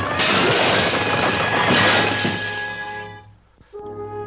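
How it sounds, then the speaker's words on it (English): A ship's bowsprit smashes through a window, a loud sustained crash with breaking glass and splintering that rumbles on for about three seconds before fading into quiet. "a bowsprit would come crashing through a window"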